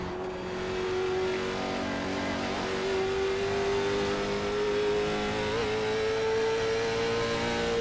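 Late model stock race car engine in the video game iRacing, a loud continuous drone with the pitch slowly climbing, close and steady with no talk.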